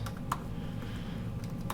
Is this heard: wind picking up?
no